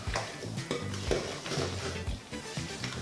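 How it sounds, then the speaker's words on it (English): A wet batter is stirred and mixed in a bowl, with a spoon knocking and scraping against the sides in a repeated, close rhythm. "Mixing it around again."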